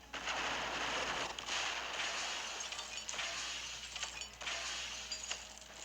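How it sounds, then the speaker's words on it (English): A Gatling gun attack fires in the video game Marvel Puzzle Quest, a dense, continuous burst of crackling, shattering rapid-fire effects with glassy clinks that rises and dips in waves for several seconds. "here we go with Gatling Gun"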